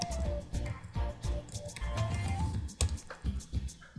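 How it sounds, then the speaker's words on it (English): Rapid clicky keystrokes on a computer keyboard entering a Fiverr search, steady irregular taps close up, with a voice talking faintly underneath. "if I go ahead on Fiverr search and type graphics design"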